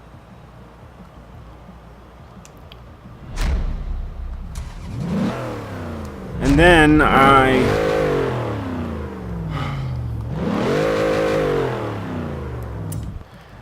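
A Ford Crown Victoria being tuned for rear-wheel-drive drifting revs up in several loud, rising bursts over a low idle, each swell climbing and falling back, with a brief spoken phrase between.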